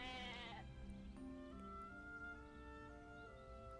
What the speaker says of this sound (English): Is that a goat?